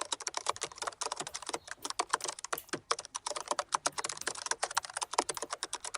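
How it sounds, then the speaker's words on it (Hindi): Rapid, steady typing on a computer keyboard, with dense clicking keystrokes and brief pauses, close and clear and with no voices. "कोट्स टाइप कर दिया"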